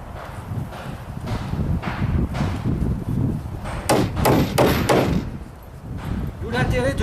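Hammer blows drive nails into timber formwork for a precast beam, landing as a cluster of sharp knocks partway through over steady outdoor noise and wind rumble.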